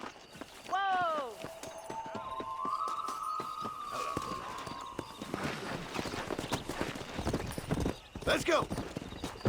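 Horse hooves clip-clopping at a ride in the video game Red Dead Redemption, a steady beat of thuds under a short whinny and spoken voices, with game music and a neigh near the end.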